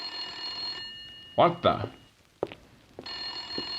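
An old telephone rings in two bursts of ringing, with a short voice exclamation in between and a faint steady hum underneath.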